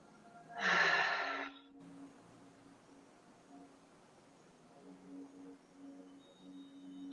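A single deep breath released after being held, a loud breathy exhale of about a second standing alone before quiet, with soft tonal hum continuing in the background.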